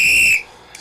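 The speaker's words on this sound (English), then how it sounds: "He's back with the whistle." Whistle blown by Cousin D, one sharp shrill blast lasting about a third of a second, loud and close, followed by near silence.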